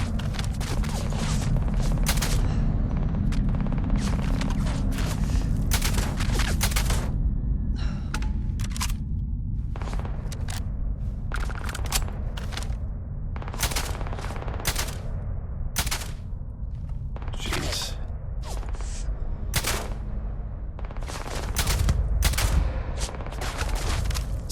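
Rifle fire in the sci-fi shooter Starfield, played on very hard in stealth style: repeated sharp shots in rapid bursts and single cracks across the whole stretch, loud and close over a steady low rumble of game ambience.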